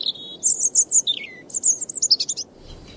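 A European robin in a garden sings a clear, high, warbling phrase of fluttering notes and short descending trills, close and alone, ending after about two and a half seconds.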